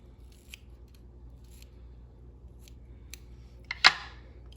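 Scissors snipping dark brown bucktail for a tied fly, one crisp close cut after soft faint clicks, in a quiet room.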